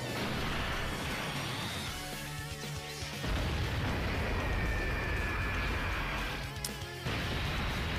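Explosions from a super attack animation in the Dokkan Battle video game, a dense, sustained crashing roar across most of the stretch with a brief lull, loud and continuous with game music mixed in.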